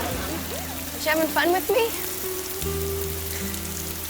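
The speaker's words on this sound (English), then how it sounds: "I love the rain." Steady rain falling outdoors in a TV show scene, a constant hiss over low background music, with a short burst of talking and a brief laugh mid-way.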